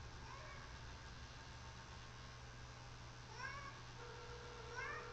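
A pet cat meows a few times in short, rising calls, fairly close, over a steady low hum and background noise with no talking.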